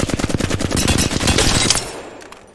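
Sustained full-auto bursts of Flatline rifle hip fire in Apex Legends, loud rapid rhythmic shots for nearly two seconds, then trailing off into a fading echo.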